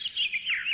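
A sparrow gives a quick run of bright, close chirps, rising and falling in a short continuous burst with no other sound around it.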